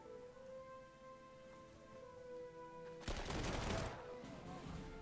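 Burst of gunfire in the Panzer Corps 2 video game as units attack anti-tank guns, a sudden loud crackling volley after a quiet stretch of steady in-game hum, fading over about a second.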